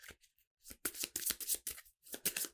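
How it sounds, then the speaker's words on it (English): Cards from a discard pile in the Ignite board game being shuffled in quick bursts of riffling and flicking, close and fairly loud, with short pauses between, alone without talk. "So I do need to shuffle up real quick."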